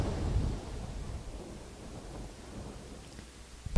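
A lightning and thunder effect from the video game Castlevania 64: a low, continuous rumble that rolls steadily and close, then ends in a sharp, loud crack.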